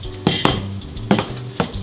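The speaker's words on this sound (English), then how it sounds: "Ooh, it's already sizzling" Hot oil sizzles steadily in a pan on an induction stove as seasoned chicken is cooked, and sharp scraping and stirring clatters of a utensil break in at irregular intervals.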